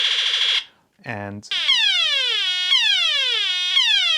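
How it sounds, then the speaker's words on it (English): A vintage G1 Transformers Shockwave laser gun toy gives a loud electronic blare, a short buzzy tone, then a rapid string of descending zapping sweeps that repeat steadily. "You've got a robot that goes into a laser gun that makes sounds and has lights."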